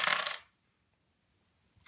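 Several dice rattle and clatter onto a table in a short, bright burst, then quiet, with a faint click at the end.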